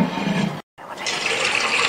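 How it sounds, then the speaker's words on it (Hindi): Water poured into a pot of round gourd (tinda) curry with meat, a close splashing pour that stops briefly and then resumes as a brighter, steadier stream. "अभी फ़िलहाल मैंने थोड़ा सा पानी शामिल किया है टिंडों के लिए"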